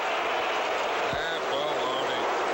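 A stadium crowd at a 1984 Green Bay Packers home game against the Chicago Bears roars and applauds as a dense, steady wash of cheering, with a voice talking over it.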